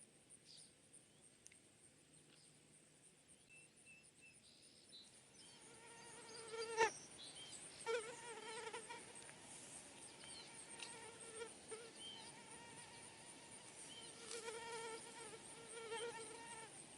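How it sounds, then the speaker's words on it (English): Insects buzz faintly in a park, a thin high drone that builds after a few seconds and holds steady, with a couple of brief clicks and no voices. "Insects, although some of them are unpleasant to us,"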